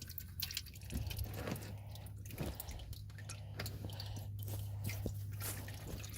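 Transmission fluid drains from a 727 Torqueflite transmission, giving faint wet drips and splashes with a low steady hum underneath, in a quiet workshop setting.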